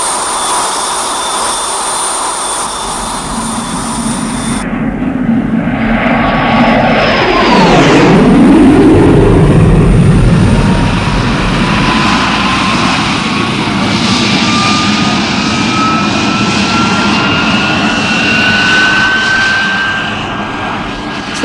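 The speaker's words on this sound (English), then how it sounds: "The pilot is coming in for the low-level speed run now, sir." A jet aircraft screams in for a low-level speed run, its roar swelling loud and sweeping sharply downward in pitch as it blasts past, then trailing off into a long rising whine.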